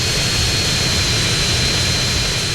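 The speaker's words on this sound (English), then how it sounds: "The Hydra plane can take off at 40 units." Hydra jet plane in GTA San Andreas taking off, a loud, steady roar of jet engine noise with a high whine, continuous and close throughout.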